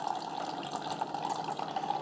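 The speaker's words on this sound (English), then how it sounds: "Okay, so they're all 3 brewing." Three Keurig coffee makers brewing hot chocolate together give off a steady, close, gurgling stream of liquid pouring into cups, continuous and moderately loud, with no talking.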